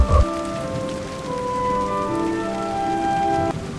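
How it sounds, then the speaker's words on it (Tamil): Steady rain falls on a rural village, a continuous close hiss of drops on surfaces that carries on alone for the whole stretch, with no voices. "இந்த மழையில் மிகவும் இதமாக இருக்கிறது."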